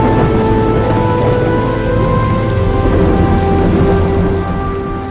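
A heavy storm pours down with dense, steady rain drumming loudly and continuously, with a deep rumble of thunder running underneath throughout, and no voices.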